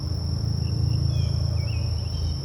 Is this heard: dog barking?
no